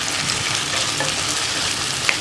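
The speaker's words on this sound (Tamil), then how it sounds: "இப்போ இந்த மட்டனை சேர்த்துடுறேன்" Cooked mutton stirred into a pan of fried onion and ginger-garlic paste for mutton chukka, a steady close sizzle with scraping stirs and no voices.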